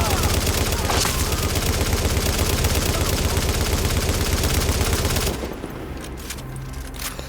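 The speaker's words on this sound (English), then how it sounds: "what I do have is I have that loud ass gun" A loud gun in The Division fires rapidly in a dense, sustained burst for several seconds, then cuts off into quieter game noise with no talk.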